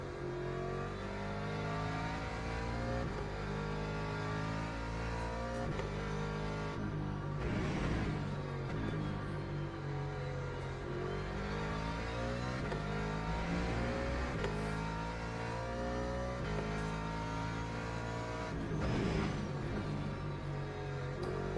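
Ferrari race car in Le Mans Ultimate, its engine revving and shifting through gears in a steady, loud, continuous drone with rising and falling pitch sweeps, other cars faintly around, no talking.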